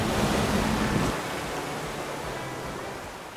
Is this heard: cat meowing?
no